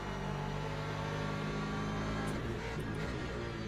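McLaren race car in the racing game Le Mans Ultimate at the Bahrain circuit, a loud continuous engine drone that holds steady at high revs for the whole stretch.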